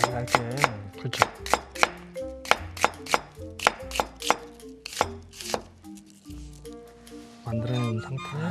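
A knife slices an onion thinly on a cutting board, giving a quick series of crisp, evenly spaced chops close by, over faint background music, with a brief pause before a busier stretch at the end.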